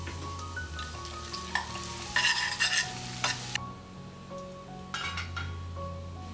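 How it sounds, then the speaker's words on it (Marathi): Plenty of garlic frying in hot oil in a home kitchen, a steady crackling sizzle with bursts of louder spitting and a few utensil clinks as it is stirred, close by and without speech. "तेल गरम झाल्यानंतर त्यात भरपूर लसूण टाकून त्याला फ्राय करून घेतलं"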